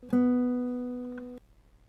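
A single classical guitar note, the open B string, is plucked, ringing clearly and steadily for over a second before being cut off, leaving quiet afterward.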